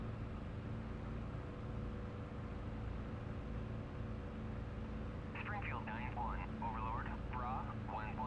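Steady droning propeller engine of a WWII warbird in the DCS flight simulator, a constant low hum through the whole stretch with faint radio-like chatter near the end.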